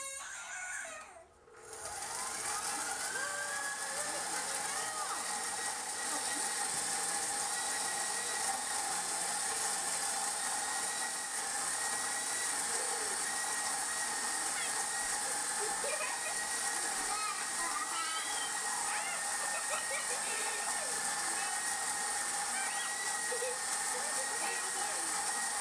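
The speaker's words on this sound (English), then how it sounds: "So we'll grind our winter rye with our boys Sterling and Carson" An electric grain mill grinds home-grown winter rye at full speed, a steady loud mechanical whir and hum that runs almost without a break after a brief start, with children's voices faintly underneath.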